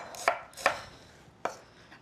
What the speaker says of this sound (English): put it flat side down, and then just angle your knife as you slice through